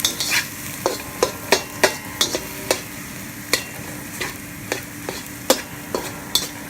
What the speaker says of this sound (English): So I'm gonna scramble these eggs to make fried rice.